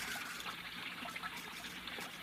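Water trickles and splashes gently in a small recirculating fountain, a soft continuous babble heard alone at low level.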